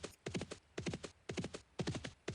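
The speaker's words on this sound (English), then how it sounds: "you jumped on the new Frontiers horse" Horse hooves clop in a steady repeating gait in the online fantasy game Dark Age of Camelot, the bursts of footfalls evenly spaced and fairly close throughout.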